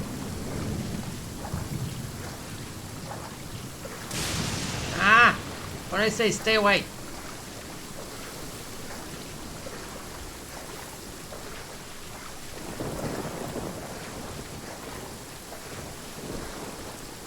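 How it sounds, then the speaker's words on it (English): Thunder rumbling with rain in Genshin Impact, a steady wash of rainfall underneath with a few louder cracking bursts in the middle, while a person talks over it. "do not hit me with thunder while I'm in the water"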